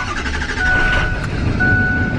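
A used diesel Ford F-250 pickup truck rumbles nearby with a steady low engine drone, while faint tonal beeps sound over the running motor.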